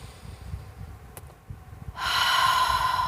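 A single deep inhaled breath, a sharp rushing intake close to the microphone that starts suddenly and holds loud and airy to the end.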